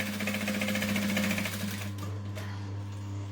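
A sewing machine runs a fast, even stitch down the side of a fabric clutch handle, humming close and steady for about two seconds before slowing and stopping.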